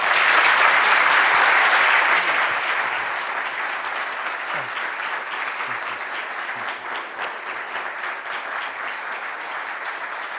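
An audience gives sustained, dense applause to welcome a speaker to the podium at an MIT talk. The clapping is loud at first, then eases into a steady, slightly softer patter that carries on throughout.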